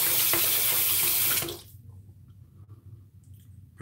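A bathroom tap runs steadily into a sink for rinsing a face, loud and close for about a second and a half, then cuts off, leaving faint drips and quiet room noise.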